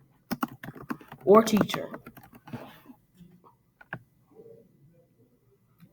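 Keystrokes on a computer keyboard as someone types into a text box, a dense burst of clicks near the start and then sparse taps, with a person speaking briefly over the typing.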